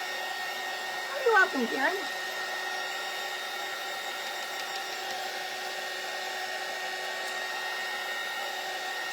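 A hair dryer runs steadily at close range, a continuous airy whir drying craft kit pieces, while someone speaks briefly near the start over it.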